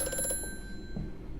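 A telephone rings in the video game Amnesia: A Machine for Pigs with a short, bright bell trill at the start. The ring fades into a quiet, low ambient hum.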